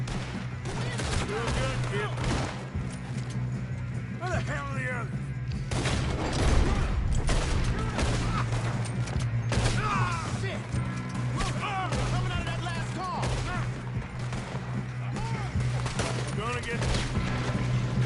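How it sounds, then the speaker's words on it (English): Red Dead Redemption 2 gunfight, with scattered shots cracking irregularly over a dense, constant background hum. Voices talk and shout throughout. "shooting"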